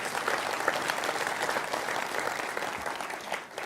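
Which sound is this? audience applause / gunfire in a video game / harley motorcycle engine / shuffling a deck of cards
audience applause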